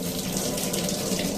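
Water gushes steadily from the outlet pipe of a Livpure RO water purifier, making a loud, continuous rushing splash close by, with no voices.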